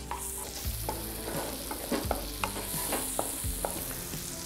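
Onion stir-fried in melted butter in a pan for chicken ragout risoles, with a steady sizzle and scraping spatula strokes every so often, close and continuous, and no voices.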